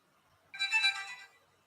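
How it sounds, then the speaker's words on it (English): A phone chimes a short notification tone, a single bright electronic jingle lasting under a second, fairly faint and alone. "I don't know why it's playing a random notification sound"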